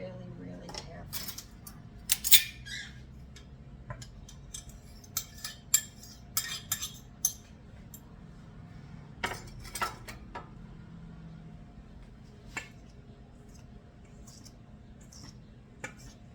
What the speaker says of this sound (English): We're going to be mixing it carefully.